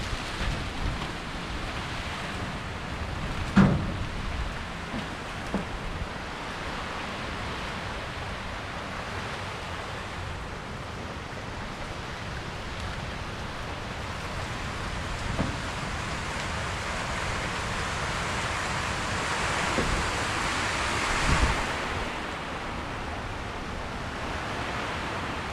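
A sudden, heavy storm-like downpour falls on an onion field as a steady, dense wash of rain, with a few brief thuds and gusty swells.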